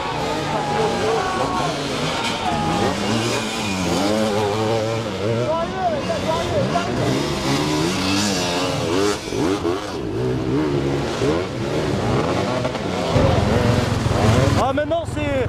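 An enduro motorcycle engine revs repeatedly at an off-road enduro event in Limousin, with rising and falling throttle bursts from one or more bikes over a noisy outdoor background, and people talking at times.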